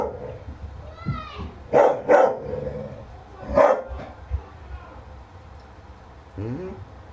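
A dog barks in a few sharp bursts, two close together and then another a bit later, sounding near and fairly loud, with background voices and ambient noise running underneath.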